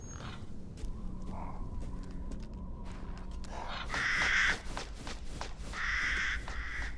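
Crows caw in the eerie village of the video game Resident Evil Village, with several harsh calls in two loud bursts over a steady ambient drone and faint footsteps.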